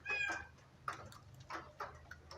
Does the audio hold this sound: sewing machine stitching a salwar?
no